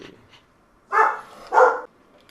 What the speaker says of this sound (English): my dog feels like he needs to just absolutely just go crazy at them